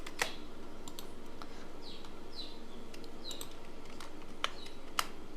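Computer keyboard keys pressed one by one while a channel name is typed, scattered sharp clicks at an uneven pace with brief gaps, soft and fairly close.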